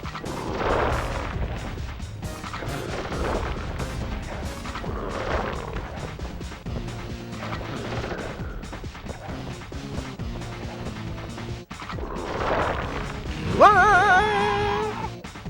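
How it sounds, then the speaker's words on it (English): A gun is smashed and destroyed in the PS2 game Sly Cooper and the Thievius Raccoonus, with repeated heavy booming crashes and thuds over a busy game soundtrack, ending in a bright electronic flourish. "My beautiful gun is destroyed."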